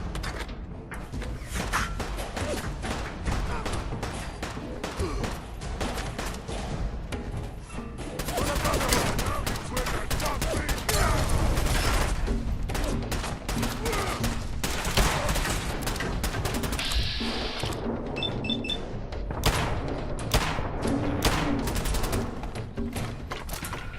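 Rapid gunfire from a gun in a Helldivers 2 game session, dense bursts of shots filling the scene almost without pause, with a person talking over the shooting.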